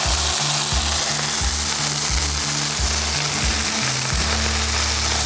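Slider burgers sizzle loudly on a hot griddle as they are flipped, a dense continuous frying hiss over a repeating low rhythmic thumping, with no talking.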